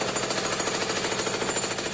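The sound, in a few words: jackhammer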